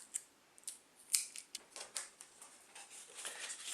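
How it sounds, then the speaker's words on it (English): Tape being pressed and smoothed onto a paper roller coaster half-pipe piece, with close, faint crackles, small ticks and one sharp snip-like click, and no one talking. "I'm going to tape that down."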